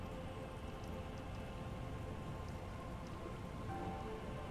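Light rain in the Disco Elysium video game makes a soft, steady patter on surfaces, faint and even throughout, with no voices.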